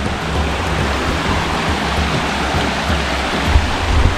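River water flows steadily through a forest in the rain, a dense, continuous broadband rush with no break, loud and close, with faint low rumbling underneath.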